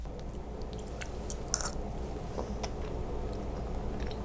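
Close-up chewing of roasted garlic cauliflower rice, soft crunchy mastication with small bites and squishes running steadily throughout, no talking.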